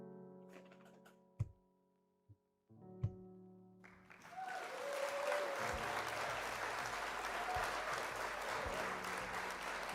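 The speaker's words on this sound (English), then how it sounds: "That's some claps for us finally getting back down here." Applause from a few people bursts out after some scattered sharp taps and thumps, then settles into a sustained, fairly loud round of clapping that carries on to the end.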